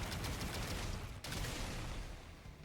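Rapid, dense bursts of gunfire from the video game The Hundred Line play continuously at a low level, with one brief dip partway through, no speech.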